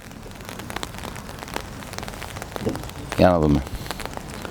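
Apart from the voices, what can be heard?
light rain falling during a football match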